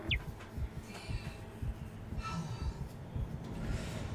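A tram in the Dead Space Remake game rumbles steadily as it arrives, with low rolling rail noise, faint metallic squeals and brief hissing, moderately quiet and steady throughout, with no talking.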